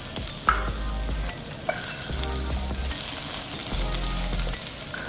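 Sichuan peppercorns sizzling in a thin layer of oil in a wok, a steady bright crackle with low scraping from stirring underneath.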